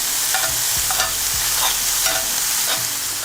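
A steak sizzles loudly in a tilted pan while it is basted with compound butter and rosemary. The frying hiss is dense and continuous, broken by a few soft clinks of the spoon.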